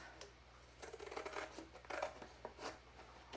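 Scissors snipping cardboard flaps off a homemade periscope, a run of soft, quick crunching cuts in uneven bursts, close and faint.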